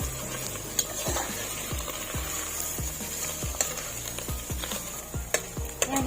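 Chicken pieces sizzle steadily in a hot pan alongside mushrooms for a creamy carbonara, with a spoon scraping and tapping the pan in a loose, repeated stirring rhythm close by.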